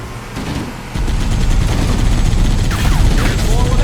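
Sustained gunfire in Halo: Combat Evolved Anniversary on The Silent Cartographer level, a loud, dense barrage of rapid shots and booms that intensifies after the first second and rolls on continuously.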